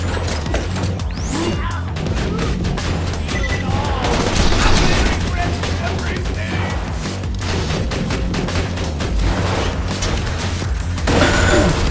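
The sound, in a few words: sentry gun gunfire in video game Borderlands 2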